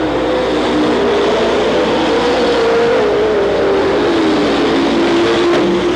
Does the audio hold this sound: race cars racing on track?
yes